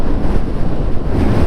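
Strong wind roaring loudly and steadily across an open asphalt road on Ruta 40 in Patagonia between Gobernador Gregores and El Chaltén, with heavy low buffeting gusts hitting the microphone throughout, no voices.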